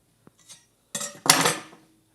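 Cleaver chopping through a block of homemade soap, a few quiet taps followed by a sharp clattering knock and a brief scrape as the blade hits the board, close and alone.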